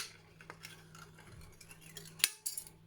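Scissors snip through an old aluminium drink can while shaping rounded rose petals, giving a series of close, small metallic clicks and scrapes that end in one sharp, louder cut.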